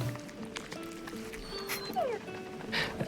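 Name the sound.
dog barking in a video game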